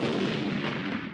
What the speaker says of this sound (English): The Mexicans had an enormous cannon. It shot a cannonball that damaged a wall of the fort.